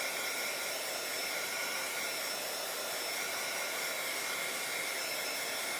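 A heat tool blows steadily and close by, drying PearlEx powdered pigment on a handmade boho tag, with an even, constant whooshing hiss that stays unchanged throughout.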